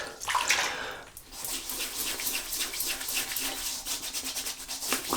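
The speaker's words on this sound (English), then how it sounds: "I'll lather it up like we're having a wash" Kaliflower Organics Pine Tar shaving soap lathered with a brush, a steady wet rubbing and swishing that runs continuously, close and fairly loud, with no talking.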